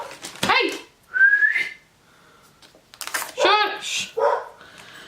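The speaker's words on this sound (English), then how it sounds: "A dog that likes to guard their house, or think they're barking, defending their house from something" A house dog barks in short sharp bursts, guarding the home, while a person's voice hushes it and a thin whistle-like tone rises between the barks.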